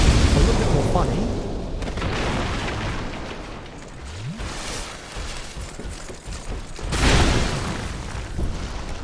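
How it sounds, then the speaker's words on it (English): Barrels explode in Dark Souls 2 with deep booming bursts, a heavy blast early on and another loud one near the end, over a noisy game soundscape while someone talks. "by making him explode the barrels"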